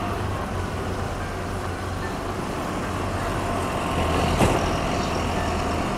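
Road traffic at the Netaji crossing in Kotulpur, a steady dense roar of trucks and cars passing nearby, with one louder vehicle surging past toward the end.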